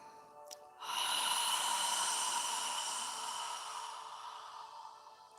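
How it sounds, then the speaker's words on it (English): After a brief sharp sniff, a single long, slow exhale flows out, breathy and hissing like fogging a mirror, close and quiet, gradually fading over several seconds during a yoga session. "As you exhale, imagine you're fogging a mirror with your breath."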